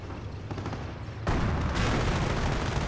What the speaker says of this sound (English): Sniper hits the commandos. Panzer IV are firing away.